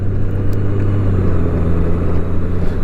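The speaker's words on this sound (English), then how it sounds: "this sublime 6-cylinder engine on here" A six-cylinder boxer motorcycle engine, horizontally opposed and paired with a DCT gearbox, gives a loud, smooth, steady low rumble that is close by and continuous throughout, with no voices.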